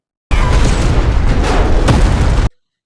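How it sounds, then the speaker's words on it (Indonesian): A grenade goes off inside a laboratory as a film sound effect: one loud, sustained blast roaring for about two seconds with crackling debris, then cutting to silence. "Dokter Gisu melemparkan granat ke dalam lab"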